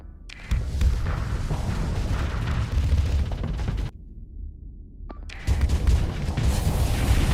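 Starsector space combat fills with heavy booming ship explosions, a dense continuous roar that drops out briefly, then a sharp crack before another loud burst resumes.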